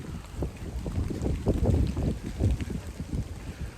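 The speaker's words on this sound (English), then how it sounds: "Hope that wind ain't cutting you guys too hard" Gusty wind buffets the microphone on an all-dirt hiking trail at Tawawa Park, rumbling low and uneven in swelling bursts with no voices.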